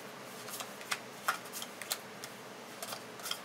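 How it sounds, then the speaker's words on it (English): Playing cards being flipped over one by one onto a table for discard piles in the board game Sheriff of Nottingham, a few crisp, close snaps and flicks spaced irregularly in a quiet room. "in a centralized location, you flip over 5 cards for the discard pile"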